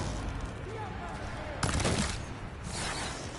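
In the video game Horizon Forbidden West, bursts of gunfire crackle in two loud, dense volleys over a busy battle background, while voices shout nearby.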